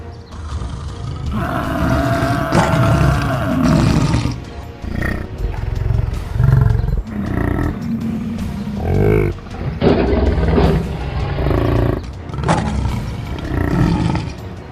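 Several lions roar in the wild, loud and close, in a heavy layered chorus of rumbling roars and growls that swell and break off in waves across the whole stretch.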